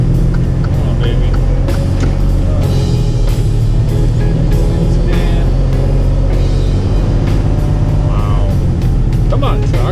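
A truck engine labours hard on a slippery road, a loud continuous rumbling drone with road and tyre noise throughout, while someone talks over it.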